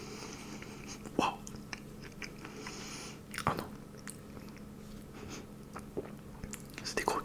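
Close, soft bites into fried cheddar cheese croquettes flavored with Cajun spices, with a few distinct crunchy bites spaced seconds apart over quiet chewing. A brief muttered voice is heard.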